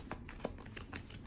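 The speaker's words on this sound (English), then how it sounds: "There's no reason to be tense during the shuffling process." Tarot cards being shuffled by hand, soft quick riffling and light card slaps, faint and close, in a quiet room with no talking.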